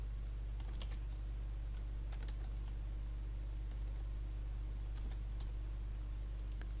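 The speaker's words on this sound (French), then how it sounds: "On va taper notre texte." Keys tapped on a computer keyboard at a desk, a run of light, irregular clicks over a constant low hum, no voices.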